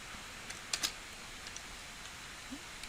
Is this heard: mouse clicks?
yes